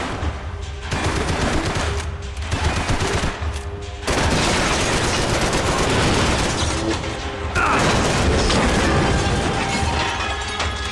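Rapid bursts of video-game gunfire, machine-gun-like volleys cutting in and out in several loud stretches, with dense crashing fusillade filling the middle and later seconds.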